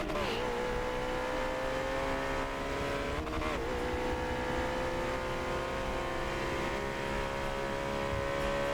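A McLaren race car engine in Forza Motorsport 7 at VIR drones loudly and steadily, holding a high continuous whine with a brief pitch dip and rise midway as it shifts and pulls on.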